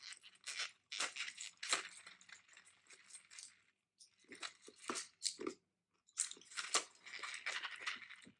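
Close crunching and chewing of small chocolate milk ball candies from a Japanese snack box, in repeated bursts of crisp bites with short pauses between them.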